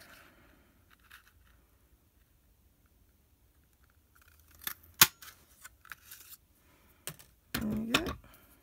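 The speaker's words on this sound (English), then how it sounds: "Punch it out." A paper shape is punched out with a handheld craft punch during tri-fold card making: a couple of sharp, isolated clicks, then a short, louder crunching snap near the end, in an otherwise quiet room.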